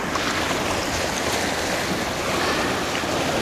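Ocean waves rolling and washing continuously, a loud broad rushing surf with no break, heard on its own.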